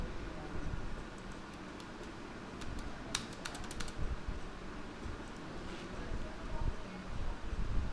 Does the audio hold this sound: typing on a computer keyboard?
yes